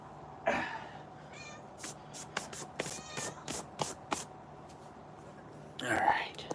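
Minnie, a pet cat, gives a couple of meows at the start and end, with whispery voices and scattered taps and rustles in a quiet room between them.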